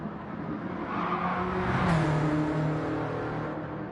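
Subaru race car in the racing game Gran Turismo 7, its engine a steady, loud mechanical roar that swells slightly midway, with faint tire noise and no voices.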